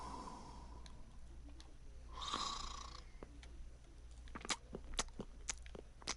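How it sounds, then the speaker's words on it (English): A video game character in Kingdom Come Deliverance snores faintly, one drawn-out rasping breath rising midway, set against a low steady hum and scattered soft clicks. "Okay, you're standing up, but you're still snoring?"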